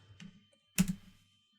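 A single computer keyboard key, the enter key, is struck firmly, a sharp close click preceded by a lighter tap, in an otherwise quiet room.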